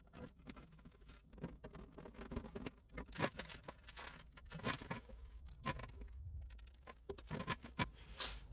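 Scissors cut through Gorilla Glue rubber seal tape to fit it along a fender, a close, quiet run of irregular snips, scrapes and rustling taps with no talking.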